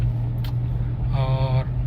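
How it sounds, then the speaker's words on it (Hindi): Car engine picking up speed in fourth gear during a driving lesson, a steady low drone with a rising tonal whine in the middle, close and continuous with no talk. "अब फोर्थ गियर लगाओ, क्लच छोड़ो, रेस दो।"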